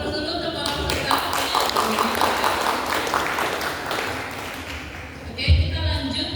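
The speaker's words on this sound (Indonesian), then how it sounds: "Aplaus dulu untuk para peserta." Audience applause for participants of a quiz competition, a dense burst of clapping lasting several seconds that fades near the end, with a short thump.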